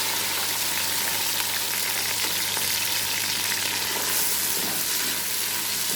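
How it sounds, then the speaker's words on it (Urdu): Four large onions fry in oil in a pan for Lahori mutton keema, giving a loud, continuous close sizzle and crackle with faint stirring and no talk. "جی بس پیاز کو ہم نے اچھی طرح فرائی کر لیا"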